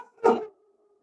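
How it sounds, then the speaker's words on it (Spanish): A pet dog at home gives one short, fairly loud bark that cuts off quickly, leaving a faint lingering tone and then near silence. "con el ladrido de mi perro"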